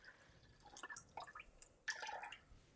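Water pours into a Nama M1 milk maker as irregular splashes and trickling drips that come in two bursts, close and fairly quiet.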